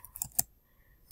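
A few quick keystrokes tap on a computer keyboard up close, then a short quiet gap and one more soft click.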